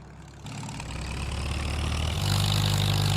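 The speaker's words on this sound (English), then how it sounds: "hop in Allis, get her fired up and ready for some harvest action" An Allis tractor engine in a farming video game fires up and settles into a steady, loud low idle, growing fuller and rising slightly partway through, with no voices.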